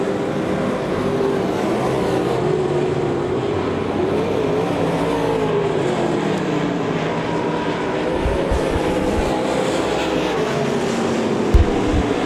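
Race cars lap at Devil's Bowl Speedway, a steady engine drone heard from a distance with a wavering pitch as cars pass, continuous for the whole stretch, with a few low thumps near the end.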